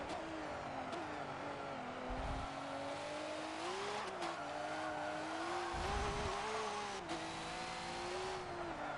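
A V8 Supercar engine screams at high revs in Forza Motorsport 7 as a Nissan Altima races at Circuit of the Americas, the note rising and falling through gear changes with brief tire scrubs, loud and unbroken.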